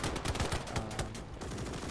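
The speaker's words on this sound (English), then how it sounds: "Get these men up and firing at the enemy actively." Soldiers' gunfire in a Gates of Hell Ostfront battle, a quick burst of overlapping rifle and machine gun shots at moderate distance, with no talking.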